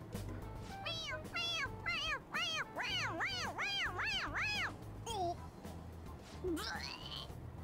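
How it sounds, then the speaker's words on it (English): A stuffed toy cat in Persona 5 Royal gives a run of repeated, rising-and-falling meows, growing louder and quicker when pressed, over steady game background music, then one short meow follows. "It meows when you press on its head."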